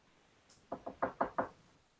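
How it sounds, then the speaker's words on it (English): Five sharp knocks on a door in a quick, slightly uneven rhythm, close and clear in an otherwise quiet room, preceded by a faint brief rustle. "A knock on the door."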